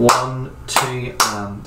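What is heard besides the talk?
hands clapping an eighth-note rhythm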